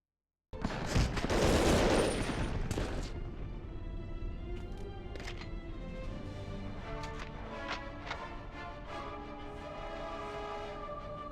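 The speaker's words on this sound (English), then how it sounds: "I might have just shot the guy" Gunfire in Medal of Honor: Underground, a 2000 video game: a loud opening burst of rapid shots fades into scattered, sharp single reports and clatter over a steady background hum, with no talking.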